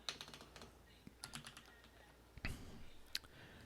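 Someone types HTML code on a computer keyboard, quick clusters of close, crisp key clicks with short pauses between bursts.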